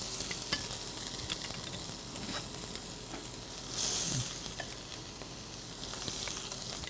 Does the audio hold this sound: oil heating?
yes